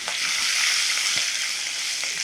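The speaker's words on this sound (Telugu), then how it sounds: "దీన్ని కొంచెం ఫ్రై అవనిద్దాం మిరపకాయలు" Cut green chilies fry in hot oil with curry leaves, dried red chilies and a pinch of asafoetida, giving a loud, continuous close-up sizzle that stays steady throughout, with faint stirring clinks.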